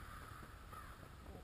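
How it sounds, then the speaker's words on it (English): Distant crows caw without pause in a faint, restless chorus, mobbing a hawk or owl perched out of sight; no one speaks. "the sound of all those crows"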